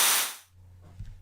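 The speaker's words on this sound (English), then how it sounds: "Basically, so this crash cymbal sounds like this." A single crash cymbal sample hits loud and bright, its wash decaying over about half a second before fading into a low hum.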